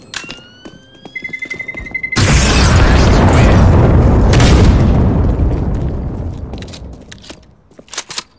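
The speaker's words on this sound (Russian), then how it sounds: "It is going to explode." A bomb goes off in the Counter-Strike: Global Offensive PC game, a sudden loud blast that rolls into a long, heavy roar and slowly fades over several seconds, with a few sharp clicks and pops after it.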